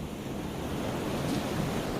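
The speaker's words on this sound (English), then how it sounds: "The wind outside is actually sucking air out of the house." Strong hurricane wind roaring steadily outside a house during a destructive storm, a dense, continuous low rush with no breaks and no voices.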